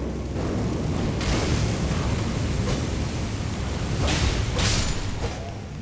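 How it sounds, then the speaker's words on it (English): Roaring, breathy rush of fire blasting from a pillar in Elden Ring, a dense sustained burst that swells and fades, with a few stronger surges along the way. "there's a pillar shooting that fire"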